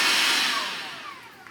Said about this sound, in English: And just turning the vacuum on there